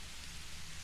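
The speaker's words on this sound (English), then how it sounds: "The drizzle has soaked your clothes." Steady drizzling rain hisses evenly on surfaces around an old deserted mill, a soft continuous wash with no voices.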